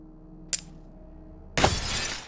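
A short sharp crack followed by a loud, bright shattering burst as a glass window is shot and breaks apart in the shooter game Receiver 2, debris spraying for about a second.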